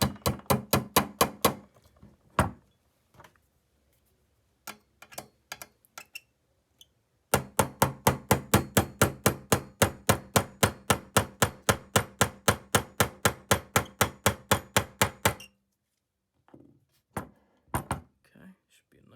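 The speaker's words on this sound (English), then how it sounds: "just tap this pin the rest of the way" A hammer taps a pin into a rifle part in quick, sharp, evenly spaced strikes, grouped into bursts with short pauses between, close and fairly loud.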